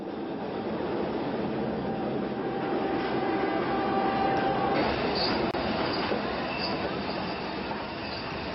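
Steam-era train on the Djibouti–Addis Ababa railway, a steady loud rolling rumble of wagons with metallic wheel squeal and rattling carried throughout, close by, with no pauses.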